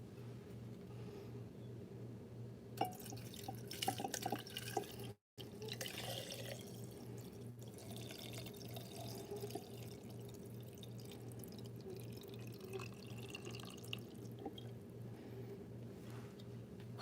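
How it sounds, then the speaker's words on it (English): Liquid is poured gently into a jar for a protection ritual, a faint, soft trickle and splash over a steady low hum, with no talk. "I'm just going to gently pour it in"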